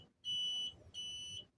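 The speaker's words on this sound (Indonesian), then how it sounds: "Kondisi ya, alarm menyala ya" A mini control panel for a solar power system sounds its alarm in a kitchen: two sharp, shrill electronic beeps, each about half a second long, separated by a brief gap, over a faint low background hum.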